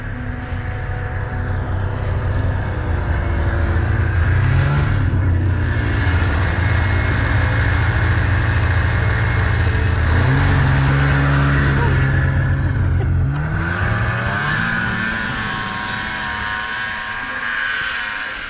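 A child's snowmobile engine drones steadily and revs up and down while the kid rides around outdoors on a snowy property, loud and close, with a voice speaking over it at times.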